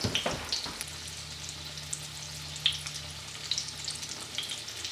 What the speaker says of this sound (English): Usually you let these cook for about 3 minutes.